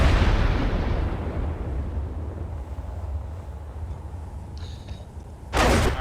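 Railgun firing in Space Engineers during a test of an experimental main battle tank: a heavy blast opens loud and decays over several seconds, then a second sharp burst hits near the end.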